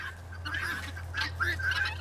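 Pet birds, fowl with turkey- or goose-like voices, call in a string of close, chattering honks and gobbles over a steady low hum.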